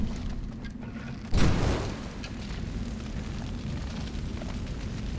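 A fire is set in the caveman-era video game Far Cry Primal, with a sudden whooshing burst that swells and then fades into a steady low rumble. No one speaks.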